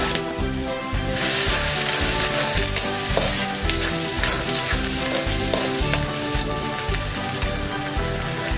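Garlic sizzles loudly in hot refined oil over a high flame, a dense, steady crackle with spatter, stirred continuously in a pan while a soya chilli dish is being cooked.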